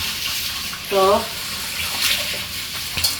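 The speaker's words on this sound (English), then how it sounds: "I'm going to wash the rice and put it in the pot" Tap water running steadily into a pot while rice is washed, a constant close splashing stream with a brief spoken word over it.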